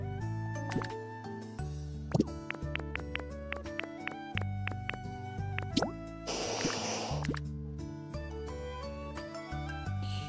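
Water dripping in the video game Pokopia, rendered as a series of soft, separate plops and drips over steady background game music.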